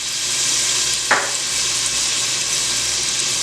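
Garlic, about four cloves, frying in olive oil and butter for a Barbados brown stew chicken, a dense, steady close sizzle throughout with one brief soft tap from a utensil partway through.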